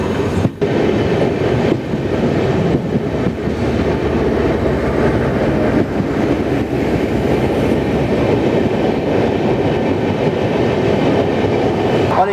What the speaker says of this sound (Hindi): शायद सामने कोई ट्रेन आ रही है